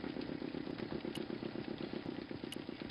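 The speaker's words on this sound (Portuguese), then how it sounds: "The motor spluttered." A motor in Broken Sword II splutters in a steady, rapid putter of low chugging pulses, with a few faint clicks on top, continuous and fairly loud throughout.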